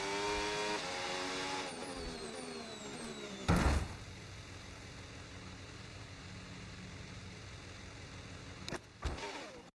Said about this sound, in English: New engine sounds as well.